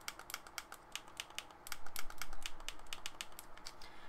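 A PowerWave PS2 wired controller's analog sticks click down repeatedly, producing quick sharp plastic clicks in an uneven rapid run, close and fairly quiet.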